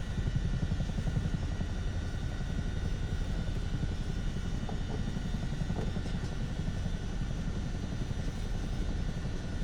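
A simulated airliner taxis toward a runway in a flight simulator game, its engines holding a steady, faint whine and drone with a low rumble underneath that stays even and continuous throughout.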